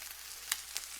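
KuneKune pork chops searing in a pan, giving a faint, steady sizzle with a couple of brief crackling pops.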